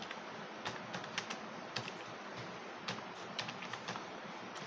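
Typing on a computer keyboard, a quick irregular run of light clicking keystrokes heard close and alone against a faint background hiss.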